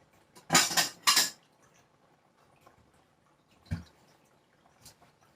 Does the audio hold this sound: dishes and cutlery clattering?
yes